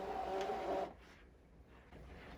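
An electronic cutting machine drawing a loaded cutting mat inside with a steady motorized whir for under a second, then a quieter mechanical hum that fades and returns, close by with no talk.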